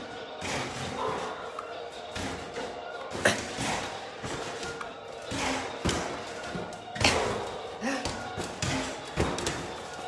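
In a Pop-A-Shot arcade basketball game, balls bounce and thud repeatedly at an irregular pace against the backboard and rim, close up, with busy noise around them and some talk.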